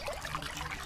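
Water trickles and pours steadily from a clay pot in a Hindi cartoon, a soft continuous liquid flow with faint splashing throughout, alone with no voices.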